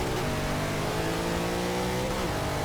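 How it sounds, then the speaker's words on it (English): A pack of race car engines revs together on the grid at Lime Rock in Forza 6, a loud sustained droning roar with layered engine tones rising steadily and no pauses. "Engines blaring."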